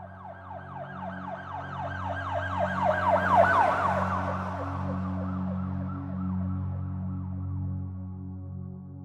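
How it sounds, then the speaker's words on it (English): A police siren wails in a repeating rising-and-falling cycle over a steady low engine drone, growing louder as it closes in, then easing slightly, with no voices. "the quiet that followed the blast was soon interrupted by police sirens closing in"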